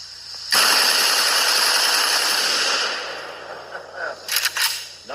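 An AK rifle chambered in 30 caliber fires a loud sustained burst of about two and a half seconds, close, then fades into a few scattered softer knocks and rattles.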